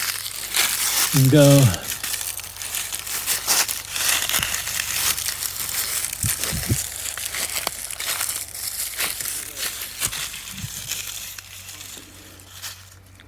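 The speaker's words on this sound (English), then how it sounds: "I'm going to give them a kind of a crush so they take a spark quickly" Dry leaves crushed by hand into fire tinder give a steady close crackle and crinkle, with a brief voice near the start and occasional soft knocks.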